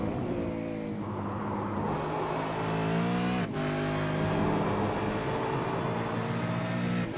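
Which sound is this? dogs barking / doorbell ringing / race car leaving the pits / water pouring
race car leaving the pits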